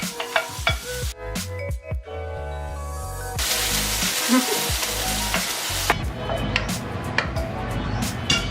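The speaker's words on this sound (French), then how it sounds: "Dans une autre poêle, on va sauter des légumes séparément." Vegetables sauté in a frying pan with a loud, continuous sizzle and crackle, broken by clattering stirring strokes of a utensil, close up and without talk.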